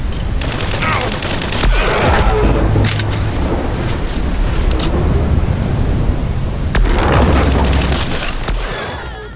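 Shotgun blasts from the space sci-fi game SpaceBourne 2, loud booming shots in close succession with rumbling, stormy weather noise running underneath.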